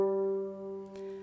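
One harp G string tuned to G natural sounds alone, a single plucked note that sustains steadily with a slight waver and a brief soft contact noise near the end.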